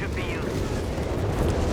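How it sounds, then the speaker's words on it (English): Dense rumbling explosions and artillery blasts from the World War II strategy game Company of Heroes 3 pile into a continuous loud wall of booms, with a voice talking over them. "Creating a wall of explosives."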